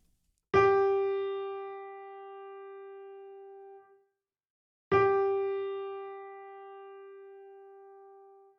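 Musical note G, the second line of the treble clef, is struck twice, each tone a clean, sustained pitch that rings for several seconds and slowly fades in a quiet setting.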